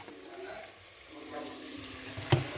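Mutton pieces sizzling and frying as they go into an onion and tomato masala for biryani, a steady crackling hiss under faint stirring with a brief clatter near the end.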